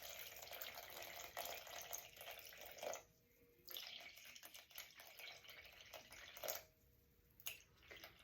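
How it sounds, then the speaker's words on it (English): Water pours in a thin steady stream into a jar holding sourdough starter, a soft continuous trickle with brief pauses and gurgles, faint and close. "I'm going to put 300 grams of water, and so I'm just going to pour until this says 400"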